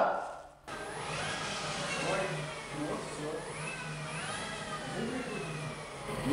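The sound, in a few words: UAZ Bukhanka van engine's first start and revving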